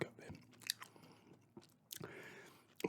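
Close, wet gum chewing with soft smacks and clicks in an uneven rhythm, a few louder bursts, alone with no voice over it.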